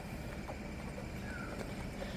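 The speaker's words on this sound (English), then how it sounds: "The horse has got his head up and he's walking." A horse walks with faint, widely spaced hoof clops against a steady outdoor background hum.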